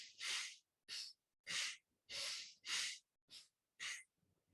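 Seven sharp, forceful nasal breath bursts from Bhastrika bellows breathing in yoga, uneven in spacing, close and fairly quiet, followed by a soft trailing breath.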